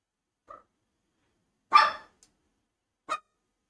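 A pet dog lying down barks three separate times, one short quiet yip, then a louder sharper bark, then a final shorter bark, each clear against silence.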